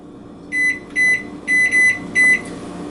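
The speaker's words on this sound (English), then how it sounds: "And then I'll set a kitchen timer for 15 minutes." Kitchen timer being set, giving five short electronic beeps in an uneven run, loud and close, over faint room noise.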